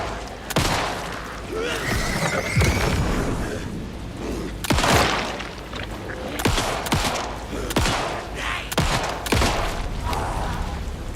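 Gunfire from the video game Alan Wake 2, a series of loud, irregular shots and booms spread across the stretch, with in-game noise and some talking between the blasts.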